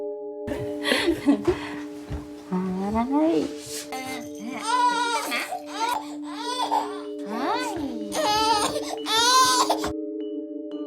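A baby cries in repeated rising, wavering wails with short pauses, loud and close, mixed with a steady electronic tone, and a voice sings softly underneath.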